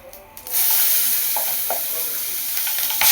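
Drumstick (sajne) leaves hit hot oil in a pan and sizzle loudly and steadily up close, with light stirring clinks during the frying.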